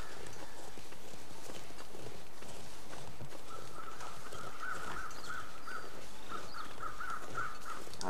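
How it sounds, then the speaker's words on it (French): Crows caw repeatedly in a winter landscape in the game The Long Dark, a series of harsh calls at middle distance over steady wind and crunching footsteps. "Il y a des corbeaux, donc ça veut dire qu'il y a un cadavre pas loin."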